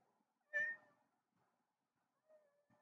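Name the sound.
cat meowing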